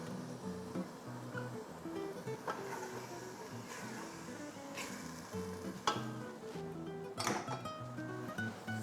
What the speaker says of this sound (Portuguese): Vamos colocar a cebola.